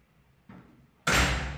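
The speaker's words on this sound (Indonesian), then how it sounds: "Kita buka kode, buka pintu dan kita masuk" A heavy door on a cruise ship opens with a latch clunk and then a sudden loud rush of engine-room noise, close and continuing.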